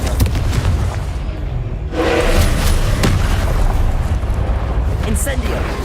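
Confringo spell blasts in Hogwarts Legacy hit as booming bursts with a surging rumble that swells partway through and carries on, while a person talks over the game sounds.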